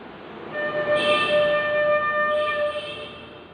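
A flute holds the note D for about three seconds, a steady, breathy tone with a soft rise and fall, heard alone with a low rumbling background behind it.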